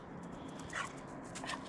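A dog called Duff Dog whimpers softly in a cluttered repair yard, two brief high whines about half a second apart rising over steady low background noise, with no talking.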